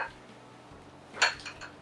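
Dorm kitchenware being handled: a dish pan, a pot and cups clink and clatter briefly, one bright knock standing out over soft background hiss, close by with no talking.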